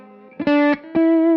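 Lap steel guitar in open D tuning plays sustained slide notes, with a short soft phrase giving way to two strong held tones separated by a brief gap, heard alone with a slightly distorted, effected tone.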